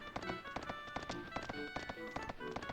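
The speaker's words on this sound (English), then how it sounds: "It's just me on the horse walking out slowly." Horse hooves clip-clopping at a slow walk in the video game Suikoden III, a steady regular rhythm of hollow knocks layered over continuous game music.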